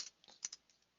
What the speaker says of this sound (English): I just hit enter and continued typing.